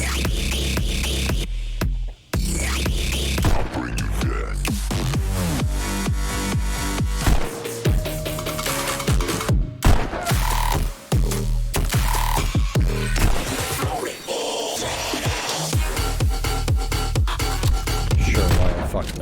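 Rapid 1911 pistol shots in the VR rhythm shooter Pistol Whip, landing over loud, dense game music at a beach level, sharp cracks woven throughout a continuous beat-driven track.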